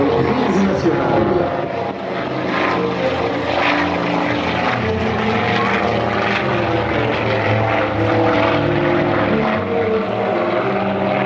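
A Nord twin-engine, twin-boom transport aircraft takes off at Le Bourget, its propeller engines roaring loud and steady throughout with a broad, throbbing drone that stays close and constant.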